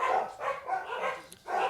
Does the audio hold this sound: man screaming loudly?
no